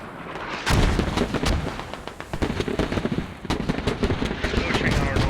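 Mortar rounds and other gunfire boom and crack repeatedly in a video game battle, with a dense, irregular barrage of loud blasts under occasional talk.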